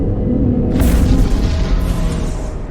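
A weapon shot in Star Wars: The Old Republic, a single loud, deep boom bursting out of a constant low rumbling background and fading into a sustained roar.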